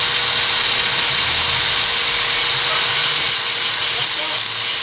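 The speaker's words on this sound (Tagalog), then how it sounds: "kailangan talaga i-grinder yung para mabawasan yung kapal para mag-fit yung bago natin biniling sprocket set" An angle grinder cuts down the thickness of a Honda XR150L motorcycle's sprocket protector to fit a new 520 sprocket set, giving a loud, continuous high-pitched grinding whine.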